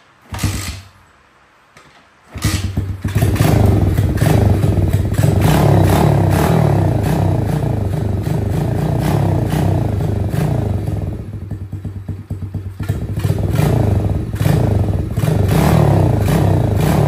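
After a brief quiet start, an X-Pro x15 110cc dirt bike engine catches and runs loud and close with a rough, clattering idle that keeps going steadily, dipping slightly once before picking back up.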